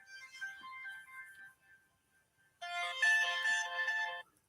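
A phone rings in for a caller to a live show, two bursts of electronic ringtone, the second louder and denser, with a short quiet gap between them.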